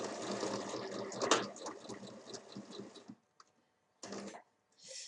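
A sewing machine stitches around the edge of a large fabric bag, a steady buzzing run of needle strokes for about three seconds, then silence broken by one short final burst and a faint click.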